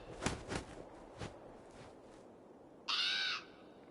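A raven in Assassin's Creed Valhalla gives a single loud, harsh caw near the end, after a few soft footstep-like thuds over a quiet background.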